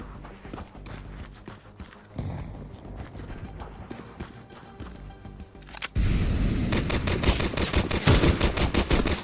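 Video game gunshots, rapid sharp cracks that grow into a dense, louder stream of fire partway through, mixed with clopping hoofbeats and background voices.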